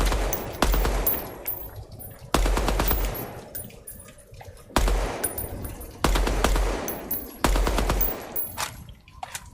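Automatic gunfire in a video game comes in repeated sharp bursts, several loud volleys separated by brief pauses, each trailing off into echo.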